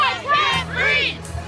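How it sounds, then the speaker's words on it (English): Angry protesters crowd a New York street at night, voices shouting and chanting together in a loud, close, ragged swell that rises and falls over a low background hum. "Angry crowds tonight in the streets of New York, protesting yet another controversial grand jury decision."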